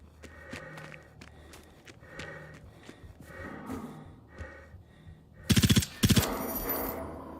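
Gunfire in the video game Generation Zero: soft scuffing steps and movement, then two sharp, loud bursts of rapid automatic fire close together near the end.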